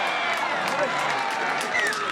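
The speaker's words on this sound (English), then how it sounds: "The crowd cheer" A rugby league grand final crowd cheers and shouts at a country ground in Scone, a broad sustained roar with scattered whistles and voices, steady in loudness throughout.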